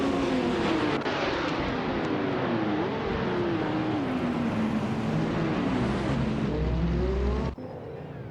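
Race cars, including a classic 1970 Porsche 917, launch from the start in a racing game, engines roaring loudly with a rising, wavering whine that holds steady before cutting off abruptly near the end.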